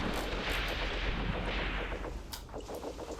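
Dense, sustained gunfire and artillery booms in the tactical war game Graviteam Tactics, a loud continuous rumble of shots layered together with no talking.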